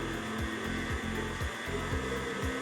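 Stand mixer kneading pizza dough, a steady motor whir with a low rhythmic thump repeating about every half second as the dough slaps around the bowl, close and continuous with no talking.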